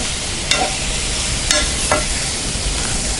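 Potatoes frying in a pan with a steady, loud sizzle, broken by a few sharp scrapes and clicks of a spoon stirring against the metal.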